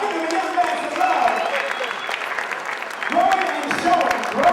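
An audience applauds a young man with steady, dense clapping that swells again near the end, while voices carry on over the top.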